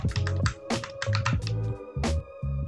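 Space bar and arrow keys on a computer keyboard being pressed during a CentOS 7 Linux terminal session: a quick run of close, crisp clicks and taps in an irregular rhythm, with no voices.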